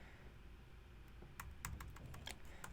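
Quick, irregular clatter of keys on a computer keyboard, fairly faint and close, with bursts of keystrokes picking up in the second half over a quiet room hum.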